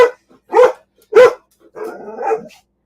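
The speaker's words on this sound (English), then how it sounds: "there must be another dog" A dog barks three times in quick succession, loud and close, followed by a lower, rougher growling whine.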